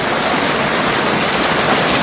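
Floodwater rushing under a hydro-electric building at a flooded intake dam, a loud, steady broadband roar of churning water with no letup and no voices.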